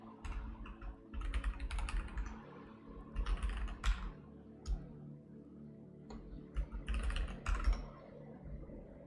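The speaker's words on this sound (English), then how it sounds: "I gotta type something." Steady bursts of keystrokes on a computer keyboard, close and fairly quiet, typed in quick clusters with short pauses between, no talking over it.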